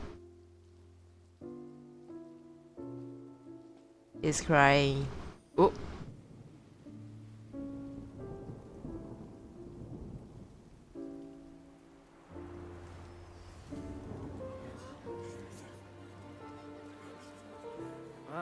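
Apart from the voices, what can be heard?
rain falling in Genshin Impact video game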